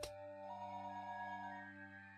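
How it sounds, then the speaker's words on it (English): A telephone rings in the Higurashi visual novel, a steady electronic bell tone that starts sharply and holds as one sustained ring, quiet and alone. "The phone continued its incessant ringing."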